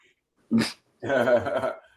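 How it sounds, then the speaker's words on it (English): A dog gives a short yelp and then a longer, strained whining vocalization, close to the microphone, with quiet gaps between the two sounds. "my dog's being a jerk"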